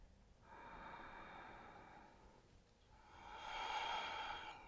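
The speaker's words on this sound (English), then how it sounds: "Taking a full breath here." A long, steady breath drawn in and released during a slow wrist and forearm stretch on a mat, with two broad airy swells and a short pause between them, close and soft, with no talk.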